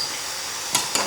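Sautéed chickpeas and vegetables in a pan sizzle softly under a steady hiss, then two quick scraping clatters of a utensil stirring them round, close and brief.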